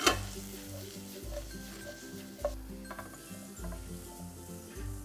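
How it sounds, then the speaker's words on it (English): Julienned onions sizzling with thyme in a pan for French onion soup, a gentle hiss under steady stirring, with the spoon scraping and tapping the pan in a slow repeating rhythm, close and quiet with no voices. "Now into that, I'm going to add the julienne onion. Just going to stir them around, turn up the heat a little."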